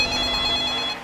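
Telephone ringing with an incoming call in Indonesia, a steady electronic trill held loud and unbroken, then cutting off near the end.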